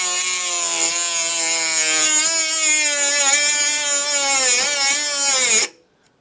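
A Parkside cordless mini rotary tool cuts into alloy with a loud, sustained high-pitched whine and grinding rasp. The pitch wavers as the tool bogs down, then cuts off abruptly when it stops.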